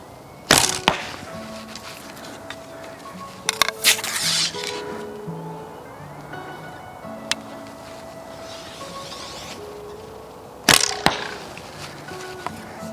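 Arrows shot from a longbow, with sharp cracking releases and impacts separated by quieter stretches, plus light rattling and clattering of other arrows against the bow's riser.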